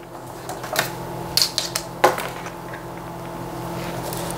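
Cardboard being scored for a wardrobe box, a few sharp scraping and pressing strokes close by, scattered clicks and short rasps over a quiet room with no talk.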